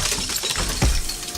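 Glass breaking in a video game, a single short sharp shatter with a thud underneath, heard over a steady background of game ambience.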